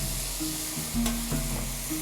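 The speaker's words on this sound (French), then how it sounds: "on va incorporer du bouillon de volaille qui sera très chaud" Hot chicken broth goes into Camargue rice in a pan for risotto, giving a soft steady sizzle with faint stirring scrapes, quiet and close with no talk.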